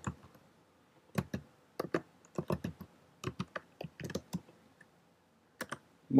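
Keys clatter on a computer keyboard as commands are typed into a Python program, with irregular bursts of sharp clicks and pauses between them, close and fairly quiet.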